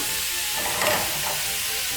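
Sandwich meat warming in a hot pan for grilled cheese, a close, steady hissing sizzle that holds evenly for a couple of seconds with a slight swell in the middle, no voices.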